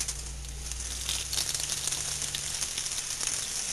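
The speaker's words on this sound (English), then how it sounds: "put our chicken in a little bit of oil. I use canola oil." Chicken breasts frying in shallow canola oil, a dense close sizzle with crisp crackles and spatters that holds steady and grows slightly busier, no talking.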